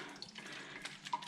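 Water running and splashing as orange zest cold process soap is lathered by hand, a soft wet trickle with small drips and squelches, close and quiet, no talking.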